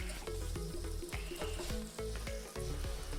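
Potstickers crisping up in a hot pan, a loud continuous sizzle close by with sharp stirring and scraping clicks recurring every half second or so.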